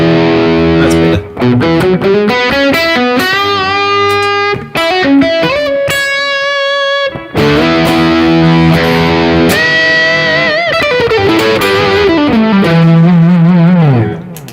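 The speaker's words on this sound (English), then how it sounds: "how thick that right pedal sounds" Electric guitar playing funk lines through a thick distortion pedal, loud chords and sustained bending notes with brief pauses between phrases and no voices.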